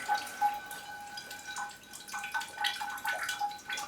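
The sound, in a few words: water being poured onto Coelogyne orchid until wet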